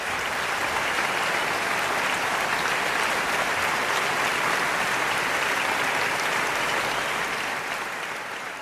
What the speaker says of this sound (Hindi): जोरदार तालियों से स्वागत हो जाए डॉक्टर कुमार विश्वास